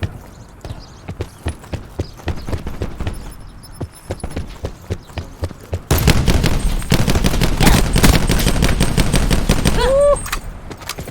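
Automatic gunfire in a video game: a steady, rapid stream of close shots runs throughout, thinner and clipped at first, then turning into a louder, dense sustained burst for the last few seconds.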